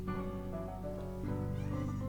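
A cat meows in an RPG Maker video game, a faint, brief call over a steady, droning game soundtrack that continues throughout.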